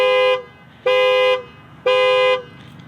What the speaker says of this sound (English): It's a loud horn.